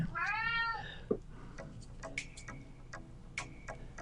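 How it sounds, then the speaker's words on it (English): A pet cat meows indoors, with a drawn-out call followed by a few shorter, fainter mews, while a clock ticks steadily in the background. "My cat is calling me for something."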